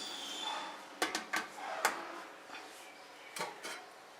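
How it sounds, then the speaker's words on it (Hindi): A metal plate holding mince tarts is set onto a stand inside a preheated cooking pot, giving a few light clinks and taps close by, with quiet gaps between them. "अब स्टैंड के ऊपर ये प्लेट रखेंगे।"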